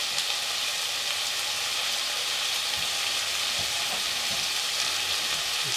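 Shrimp fried rice sizzles and fries in a hot pan, a loud, steady hiss that fills the air, with a few faint scrapes and taps underneath.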